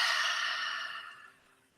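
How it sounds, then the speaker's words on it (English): A single long, deep breath exhaled slowly and audibly, close up, a breathy rush that fades gradually to quiet over about a second and a half. "we can breathe in together and exhale a nice dragon breath"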